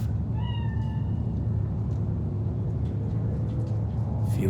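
A cat in the video game Cyberpunk 2077 gives one short meow over a steady low engine-like rumble, followed by faint ambient clatter.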